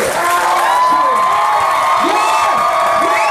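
A loud crowd cheers and whoops for a champion, a dense sustained roar with rising shouted voices throughout.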